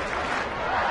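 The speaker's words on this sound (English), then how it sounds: "Crowd gets into it" Baseball crowd at Fenway Park in Boston during a Yankees–Red Sox game, a steady roar of cheering fans.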